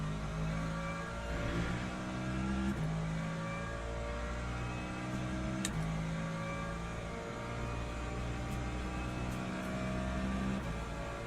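Race car engines in Le Mans Ultimate, Ferrari and Ford endurance cars among them, hold a continuous loud drone with shifting gear steps and brief upshift cuts, with no talk.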